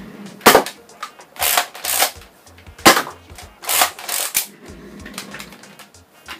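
Modified Demolisher Masterkey toy blaster fires darts in a quick irregular string of sharp, close snapping shots, about eight to ten bursts over several seconds with mechanical clatter between them.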